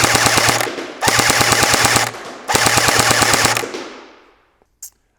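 A Magpul PDR-C airsoft gun fires fully automatic in three sustained bursts of rapid, rattling shots, loud and close, with the last burst trailing off into a faint tail.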